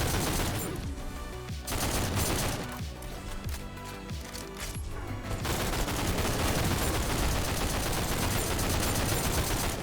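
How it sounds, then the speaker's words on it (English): Dense, continuous full-auto gunfire from a weapon in the shooter game GTTOD rattles loudly throughout, with rapid shots blurring together and brief shifts in texture as the firing continues. "I'm just full auto firing."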